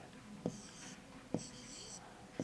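Pen or pencil writing by hand on paper in three short scratchy strokes, each marked by a soft tap, quiet and close with low background hiss.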